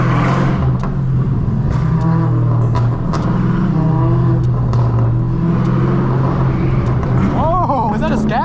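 A 1000 HP Dodge Hellcat Redeye roars loudly at close range, its engine droning and surging continuously, with people talking over it and a brief higher revving swell near the end.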